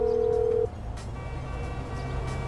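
A phone call rings in the video game GTA V: a steady electronic tone sounds for about half a second, then cuts off. A low game soundtrack continues underneath.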